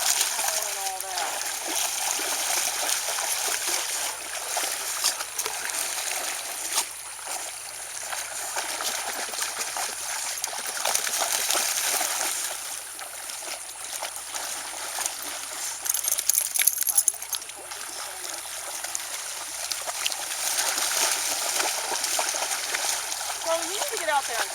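A dog splashes and paddles through water while swimming during off-leash recall training, a steady churn of splashes and sloshing with louder bursts, with a person's voice faintly underneath.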